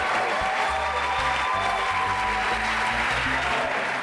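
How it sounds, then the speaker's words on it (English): Audience applauding the judges at a school quiz show, a dense, sustained wash of clapping at steady loudness with a few people's voices mixed in. "Please make some noise for the judges!"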